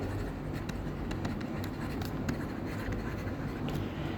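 Pen scratching steadily across paper while a working capital cycle formula is written out, a close, continuous dry scraping with small stroke bursts and no talk.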